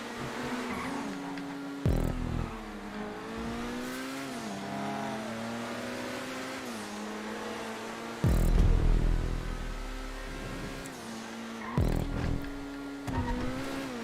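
A Monroe race car in GTA 5 drives a track with a steady engine drone rising and falling through gear shifts, with sharper revving bursts and brief louder surges along the way.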